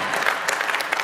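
An audience claps in a dense, steady burst of applause in a hall during a European People's Party leadership event, close and fairly loud, with no talking over it.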